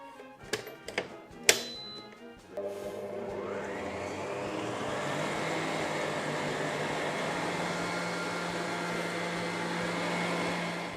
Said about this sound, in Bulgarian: Ще разбия за минута и половина-две яйцата с захарта на средна степен